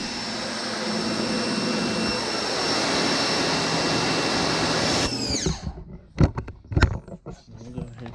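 A Ryobi 1600 PSI electric pressure washer sprays steadily and loudly for about five seconds, a dense hiss with a high whine, then cuts off abruptly, leaving scattered handling clatter and knocks close by.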